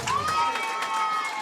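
Excited crowd cheering at a 2013 North Penn versus Pennridge homecoming football game, a steady roar of many voices with scattered shouts and a rising whistle-like cry, continuous and fairly loud throughout.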